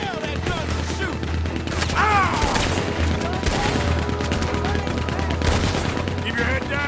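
Rapid bursts of gunfire from a Red Dead Redemption 2 shootout crackle continuously, loud and dense, mixed with shouted voices and background score.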